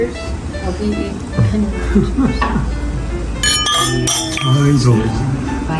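Wine glasses clink together in a toast over an Italian Tre Siciliano red at a Japanese-Italian dinner in Tsujido, Fujisawa, with a few bright, close chimes around the middle under steady conversation and background chatter.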